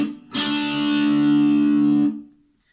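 A single electric rock guitar note played at the 7th fret through distortion rings out loud and sustained for nearly two seconds before being cut off. Nothing else is heard around it.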